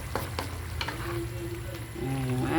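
Ground meat (giniling) with boiled egg cooking in a pan: a soft steady sizzle with light scraping and stirring clicks, quiet and close, with faint background tones toward the end.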